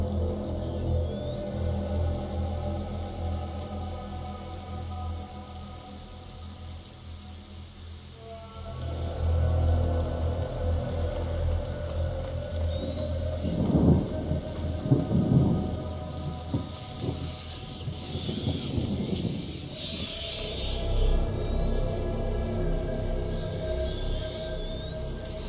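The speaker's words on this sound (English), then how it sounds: "Lucas, Hugo, stay out of the rain." Steady rain falls in A Plague Tale: Innocence, a dense hiss that swells louder partway through, with low rumbling gusts and heavier bursts later on, and no talking over it.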